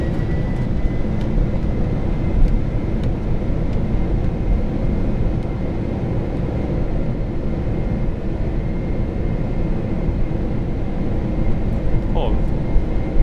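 Boeing 747 jet engines spooling up on the throttles in a flight simulator, a steady loud broadband roar holding evenly throughout with faint voices in the background.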